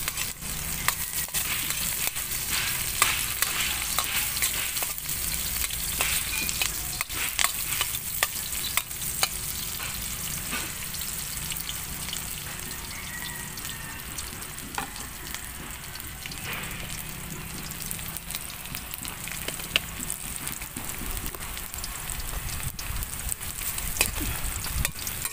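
Ginger and bay leaf frying in a wobbly wok, with continuous sizzling under repeated sharp scraping and rattling knocks as a spatula stirs and the pan shifts.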